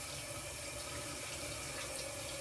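Hot water runs steadily from a tap into a sink, a constant broadband rush with no pauses and no voices.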